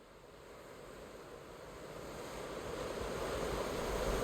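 Ocean waves and surf in Final Fantasy 16, a broad steady wash that slowly swells louder, with no voices over it.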